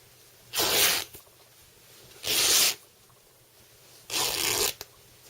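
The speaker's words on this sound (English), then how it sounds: "we can tear all the way across to the other selvage" Cotton fabric torn across its width to the selvage for a pencil case, three loud, rasping rips of about half a second each, separated by short quiet pauses.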